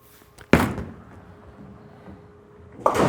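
A urethane bowling ball lands on the lane with a sharp thud, rolls with a low, quiet rumble, then crashes loudly into the pins about two seconds later.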